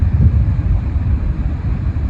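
Steady wind buffets the microphone on a beach during sea angling at Trimmingham, Norfolk, giving a continuous low rumbling roar with gusty swells and no voices.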